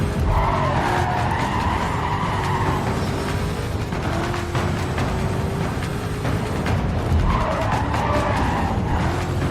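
Tires screech and skid continuously in the Need For Speed Carbon racing game, with loud squeals rising and falling over a constant engine roar and no one talking.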